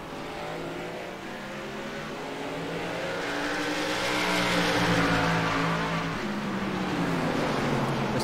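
Several stock cars in an iRacing Pro Series race at Thompson roar in a close battle for the lead, engines droning loudly and steadily with rising pitch, no talk.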